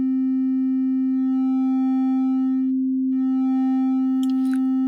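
A steady synth tone from a Serum patch runs through a wave shaper plugin, holding a pure buzzing pitch with rich harmonics; it briefly thins near the middle, then resumes, with a faint click at the end.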